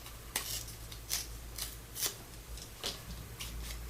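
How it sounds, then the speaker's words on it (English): Paper tags being torn by hand for a junk journal, a series of short, close ripping bursts at irregular intervals over quiet background hum, with no talking. "I want to tear them."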